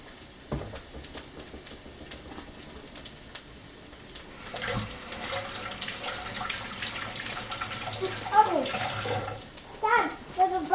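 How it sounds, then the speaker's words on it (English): Tap water runs into a sink while a child washes their hands, a steady close splashing flow that grows louder partway through, with a voice and an adult speaking over it. "Go ahead, wash your hands again"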